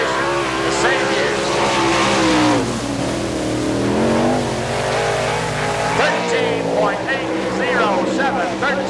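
A sprint car engine roars loud and close through a qualifying lap at the All Star Circuit of Champions Winternationals in Gibsonton, Florida, revving and shifting pitch under an announcer's talk.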